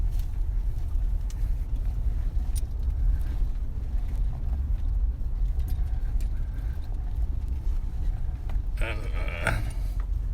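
A vehicle drives across a grassy field with tall grass, a steady low rumble with wind buffeting the microphone throughout and a brief louder rustle near the end.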